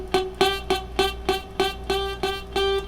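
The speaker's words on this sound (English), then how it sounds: "If you go back too far away from the fret, it can sound like this." A single guitar string fretted with the finger too far back from the fret, plucked about nine times in a steady rhythm, each note ringing briefly with a slightly buzzy, bright tone, close and alone.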